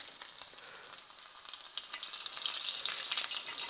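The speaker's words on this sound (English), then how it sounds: "We're frying." Battered shrimp fry in hot oil with a steady, bright sizzle and crackle close by, growing slightly louder toward the end, with no voices.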